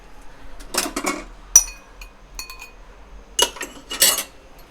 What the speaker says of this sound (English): so I'll be scraping this off